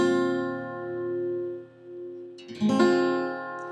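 A guitar chord rings and fades, followed by a quick second strum with string noise, a barre chord at the first fret sounding out fuller and brighter.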